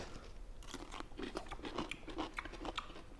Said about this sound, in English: Good crunch, which is key. Are these half dills?